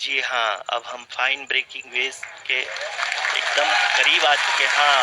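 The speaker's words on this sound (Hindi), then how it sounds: "Lot of applause indicates that till now the performance has been nominal." Applause rises in ISRO mission control during the Chandrayaan-3 lunar soft-landing, a steady broadband clatter that swells over the second half beneath continuous Hindi commentary.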